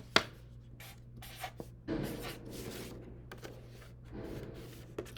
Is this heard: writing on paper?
yes